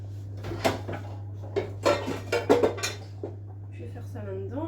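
Metal pans and utensils clatter and clank in a series of sharp knocks while a sauté pan is handled on a home stove, a few irregular bangs over about four seconds with faint voice at the end.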